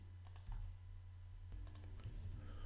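A few brief, faint computer mouse clicks at a desk while working in furniture design software, set against a steady low electrical hum in a quiet room.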